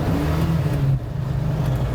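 A classic race-era car driving along, its mid-pitched engine droning steadily with a slight rise and dip in revs, heard from inside at moderate level.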